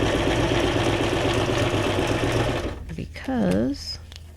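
A sewing machine runs steadily for about two and a half seconds while stitching paper ephemera for a junk journal, then stops, and a voice speaks briefly.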